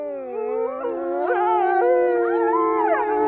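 A wolf howls, a loud, close, long tonal call with several voices rising and sliding in pitch together, sustained and eerie with no talking over it.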